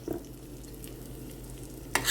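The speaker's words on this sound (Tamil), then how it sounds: "இப்போது பொறுமையாக ரோஸ்ட் பண்ண ஆரம்பிக்கலாம்." Egg roast masala cooking in hot oil in a pan, a soft steady sizzle under occasional stirring scrapes, ending in a louder burst of frying hiss.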